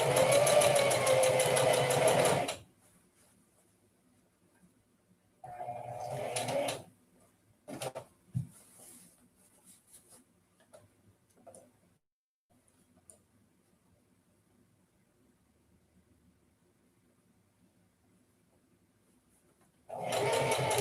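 Sewing machine stitching while chain piecing fabric, a loud steady whir for the first couple of seconds, then quiet with brief clicks and handling noises before the machine starts up again at the end.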